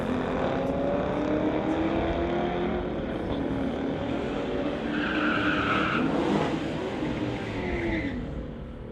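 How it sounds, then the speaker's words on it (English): A drag race launch pitting a 2018 Dodge against a Corvette at a street-legal event. Tires skid and squeal over loud, sustained engine roar, with the cars pulling away under steady, heavy noise and no talk. "Racers are off."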